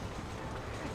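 A train rumbles along in the Western video game Red Dead Redemption, a dense, steady roar of wheels and carriage noise filling the whole brief moment.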